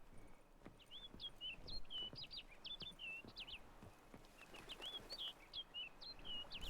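A bird in a video game chirps in quick bursts of short, high, bright calls over soft low background rustle, with the calls clustered near the start and end.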